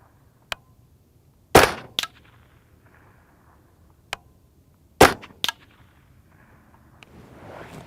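Gunshots fired into Spartan Armaply Level III+ body armor land as sharp, loud cracks in pairs and singles, with gaps of quiet between them and faint rustling near the end.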